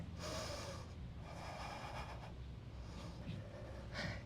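Deep audible breaths in a power yoga flow, a few long inhales and exhales rushing through the nose and mouth at close range, steady and unaccompanied by talk.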